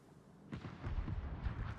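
Torpedo explosions in a naval combat video game, a sudden muffled boom followed by a rumbling, rolling series of low blasts, moderately loud and fairly distant.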